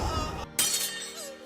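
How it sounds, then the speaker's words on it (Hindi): A sword shatters in an anime fight scene, a single sharp metallic break that bursts out loud after a brief hush, then rings and fades alone. "कि तलवार टूट गई"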